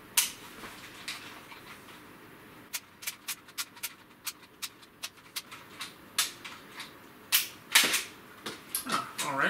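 Sharp plastic clicks and snaps as the code lock on a Nerf Codebreaker crossbow is worked open, a string of close, irregular ticks that bunch into quicker clatters toward the end.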